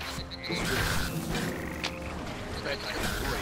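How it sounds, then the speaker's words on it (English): A spiked frog croaks amid combat in Vikings: Wolves of Midgard, repeated short croaks mixed with clashing game effects while a person talks over the action. "it's a spiked frog, which is totally different"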